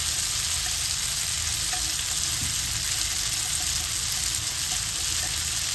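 Tuna with its oil sizzles hard in a hot pan for pasta with sweet basil, a dense continuous frying hiss with small crackles and no voices.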